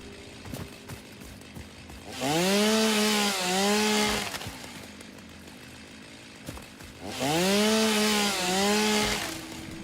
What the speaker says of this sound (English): The chainsaw might be my favorite thing so far